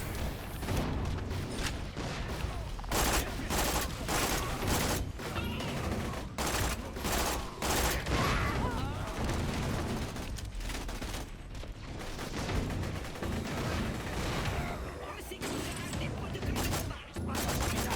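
Rapid, dense gunfire from the video game Borderlands: The Pre-Sequel rattles on in repeated bursts with booms and mechanical clatter, fairly quiet overall, with a voice speaking intermittently.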